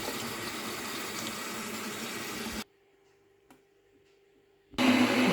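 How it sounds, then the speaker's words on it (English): Water runs from a kitchen tap into a kettle with a steady rushing stream. It cuts off for about two seconds, leaving near silence and a faint hum, then gushes back on more loudly. "Need to put some more water in the kettle."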